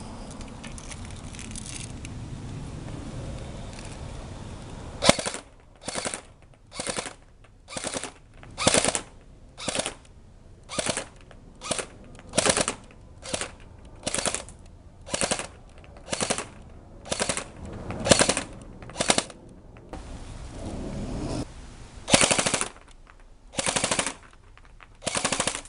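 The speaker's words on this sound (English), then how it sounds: "I'm going on 3-round bursts right now" Burst Wizard King Kong foam blaster cycling through rapid three-round bursts, sharp mechanical clatters in tight clusters repeated about a dozen times with short pauses between, loud and close after a few seconds of quiet handling.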